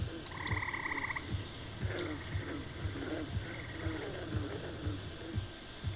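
A frog in the online role-playing game EverQuest (Project 1999) croaks repeatedly, its warbling croaks recurring over a steady low pulsing game ambience.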